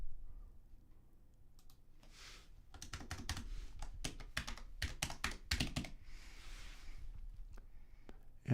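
Someone types quickly on a computer keyboard, and bursts of sharp key clicks cluster into dense runs with short pauses between them. The typing is close, fairly quiet, and has no speech over it.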